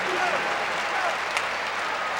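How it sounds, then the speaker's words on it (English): Basketball crowd applauding a player who has fouled out, a dense steady wash of clapping filling the arena, with a commentator's voice partly audible over it. "But he gets a big hand from this crowd"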